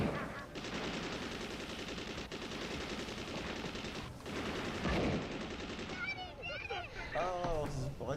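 Rapid bursts of gunfire from a shooting in a game, a rattling volley of machine-gun-like shots for several seconds, followed by scattered shots and sharp chirping effects toward the end.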